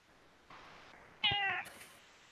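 A pet cat meows once, a short close mew with a rising-falling tone, over a quiet room hum with no talking.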